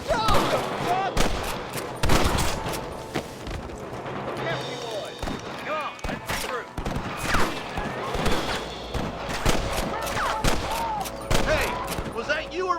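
Gunfire in a Red Dead Redemption shootout, repeated sharp gunshots and rapid volleys spread irregularly throughout, mixed with shouting voices and dialogue.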